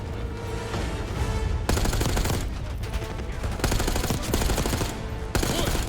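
Sustained automatic cover fire in a Call of Duty: Black Ops 6 cutscene, dense bursts of machine-gun and rifle shots rattling loudly and almost continuously, with brief surges and explosive cracks layered over a low battlefield rumble.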